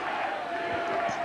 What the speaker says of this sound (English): you can hear what the crowd think of that